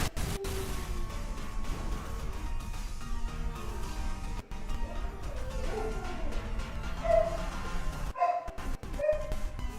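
A dog named Luna barks a few times amid a busy, noisy background, the yips fairly close and partly masked by steady surrounding sound.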